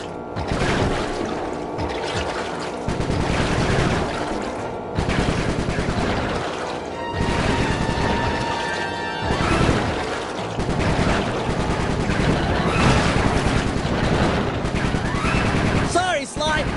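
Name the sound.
gunfire from Bentley's gun in the video game Sly 3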